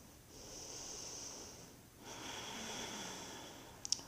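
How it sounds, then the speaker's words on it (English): Two slow, close breaths through the nose during a yoga session for sciatica relief, each a soft airy hiss swelling and fading, followed by a faint click. "inhaling in through the nose, exhaling out through the nose"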